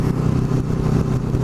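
A motorcycle engine hums steadily and close while riding on a spring day between North Cape May and Cape May, with a continuous mid-low drone and rattling clatter throughout.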